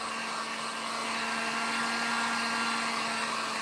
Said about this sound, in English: I'm just drying this paint up.